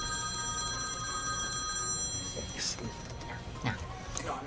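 A doctor's telephone rings with a steady electronic tone, while faint clicks and rustles sound under a constant background hum.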